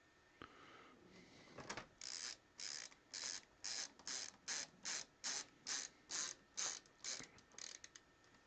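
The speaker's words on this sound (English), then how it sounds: "Let's put all the screws back in." Screws are driven back into an Amiga 1200 computer case with a ratcheting screwdriver, a long run of rapid, even clicking bursts, close and fairly quiet.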